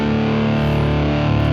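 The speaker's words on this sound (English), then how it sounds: "nasty distortion sound" A single electric guitar chord in drop tuning, played through dirty, nasty distortion in a blues rock style, rings out loud and sustained on its own with no voices.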